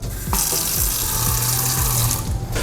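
Water rushes steadily through a LeveLuk SD-501 water ionizer machine during a deep-clean flush, a loud, continuous splashing stream with a few soft knocks underneath and no talking.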